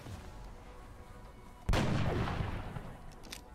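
A sniper rifle fires once in the video game XCOM: Enemy Unknown, a sudden loud boom whose rumbling tail fades over about two seconds above a quiet game background, followed by a faint sharp click.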